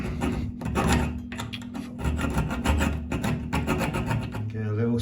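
A hacksaw cutting a groove into a pipe olive makes short, close rasping strokes in an uneven rhythm, fairly quiet and continuous.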